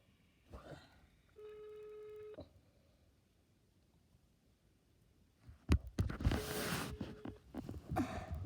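A telephone rings with an incoming call: a steady electronic tone lasting about a second, then louder clattering, rustling handling noise, all fairly quiet and close.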